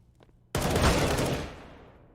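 Galil assault rifle fire in Counter-Strike on the Mirage map during a pro match: a sudden loud burst of several rapid shots that crash in together, then a long reverberant tail fading over the next second and a half, with no talk over it.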